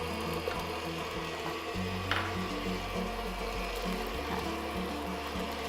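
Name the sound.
mixer blending biscotti dough after adding an egg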